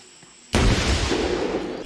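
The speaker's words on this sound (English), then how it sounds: "He barely even flinched when there was that explosion." A dummy detonator sets off a sudden, loud training explosion: one sharp blast bursting out of quiet, followed by a heavy rumbling roar that slowly fades over about a second and a half.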